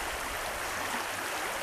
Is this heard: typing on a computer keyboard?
no